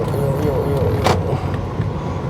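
A car pulls out into a busy Vientiane street, a low engine rumble under city traffic noise with a brief sharp knock partway through; a voice is faint in the background.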